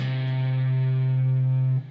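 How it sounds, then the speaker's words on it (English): A single electric guitar note at the 4th fret of the A string, struck with an upward strum through a distorted tone, rings out steadily and close for almost two seconds before it is cut off. "The note that will ring out will be the 4th fret of the A."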